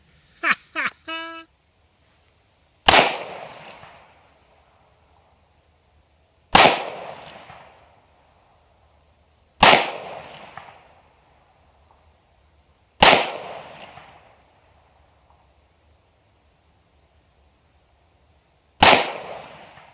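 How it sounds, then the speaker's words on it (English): An Uberti 1858 Remington conversion replica revolver fires five sharp, loud shots spaced about three to six seconds apart, each followed by a ringing echo that dies away, with a brief voice just before the first. "First shot with this gun, let's check it out."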